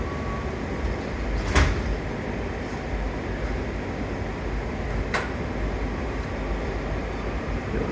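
Inside a Washington DC Metro Yellow Line train, the doors slide shut with a couple of brief clunks over a steady, loud cabin rumble.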